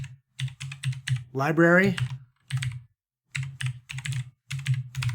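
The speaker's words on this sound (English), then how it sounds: "So I'm just going to type in" Quick bursts of computer keyboard typing in an R coding session, several rapid clusters of clicks, close and fairly loud, broken by a short spoken word in the middle.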